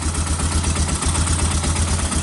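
A 1999 Yamaha Bear Tracker 250 ATV idles cold with the choke partly on, a steady, loud low-pitched engine putter running evenly and close by, with no other sounds.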